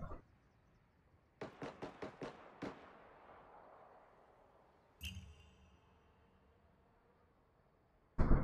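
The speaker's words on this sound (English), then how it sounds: "Mortars coming down." Mortar shells from Ghost Recon crash down in a quick volley of about six sharp blasts, with a larger boom a few seconds later and another at the very end, rumbling loudly with no talk over them.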